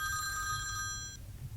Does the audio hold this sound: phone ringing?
yes